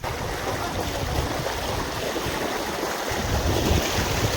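The large Sirusa river, flowing down from Arunachal, rushes over slippery stones in a steady, close, broadband wash that swells slightly toward the end, with no voices.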